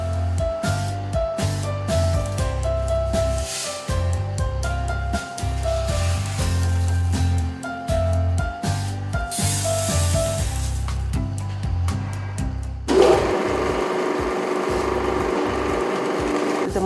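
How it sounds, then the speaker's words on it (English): A fixed oil extruder runs continuously, pressing oil from nuts and seeds with dense mechanical clanking, ratcheting and rhythmic grinding, shifting to a harsher hissing rumble near the end. "The machines that we have is a fixed oil extruder. It squeezes the oil from the nuts and the seeds."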